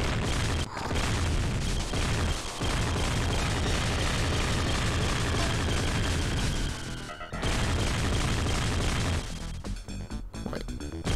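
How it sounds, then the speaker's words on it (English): Dense, continuous rumbling blasts of mini missile explosions in a video game played on a Mega SG console, loud and sustained for several seconds, with brief gaps and a choppier burst near the end. "Mini missiles."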